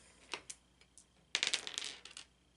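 Two dice rolled for a save in the Warhammer Quest: Silver Tower board game, with a few light taps and then a quick clattering burst of bouncing clicks that settles, faint and close.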